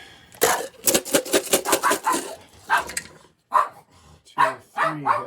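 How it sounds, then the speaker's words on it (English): A dog barks at dice rolling during a tabletop war game, with a rapid run of sharp barks followed by a pause and a few more barks, loud and close. "Dog doesn't like the dice rolling"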